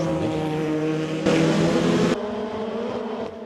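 Formula Two race cars at Brands Hatch in the 2012 FIA Formula Two season: loud, high-pitched engine whine held close and steady, with a sudden louder surge midway before dropping back, no voices.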